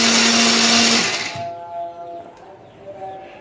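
A kitchen blender whirs loudly for about a second while grinding turmeric, garlic, shallots, ginger and candlenuts with water, then spins down and cuts off, leaving quiet room sound with no talking.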